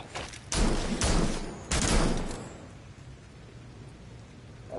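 Gunfire in a shooting video game comes as two or three dense, loud volleys of rapid shots, each trailing into a booming, rumbling decay, followed by a low lingering ambience.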